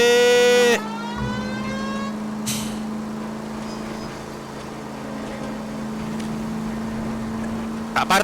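A car is driven in the video game L.A. Noire, its steady engine drone running throughout, opening with a short burst of harsh tonal noise and occasional thumps, no talking.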